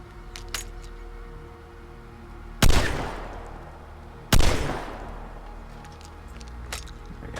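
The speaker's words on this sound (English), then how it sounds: "I found with the shotgun, it works pretty good with the old hip fire." Two loud shotgun blasts fired from the hip in the video game Vigor, about two seconds apart, each a sharp crack with a long decaying tail, with faint clicks and small clatters between.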